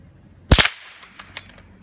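A CZ 452 .22LR bolt-action rifle fires at a metal target about 22 yards away, one sharp close crack followed by several quick metallic pings and clinks of the target.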